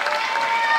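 Spectators at a high school swim meet cheering and clapping for teammates finishing a race, a dense, even wash of crowd noise filling the whole brief moment.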